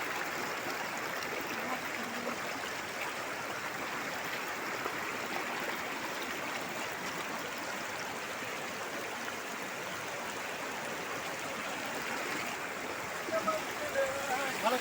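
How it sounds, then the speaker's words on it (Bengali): Floodwater rushing in a swollen stream makes a steady, broad roar that holds constant throughout, with faint voices underneath near the end. "হু করে জলের স্রোত দেখুন বন্ধুরা"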